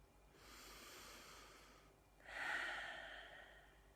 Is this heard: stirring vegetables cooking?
no